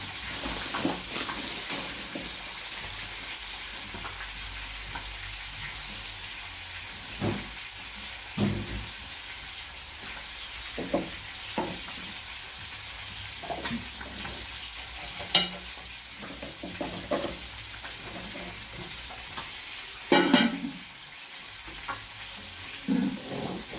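Food fries steadily in a pan on a budget home kitchen stove in Jamaica, a constant close sizzle broken by occasional clinks and scrapes of a utensil stirring against the cookware.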